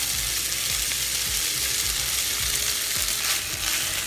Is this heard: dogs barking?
no